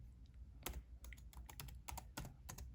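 Quiet computer keyboard typing an answer, a run of distinct, irregular key clicks and taps close up, with no voices.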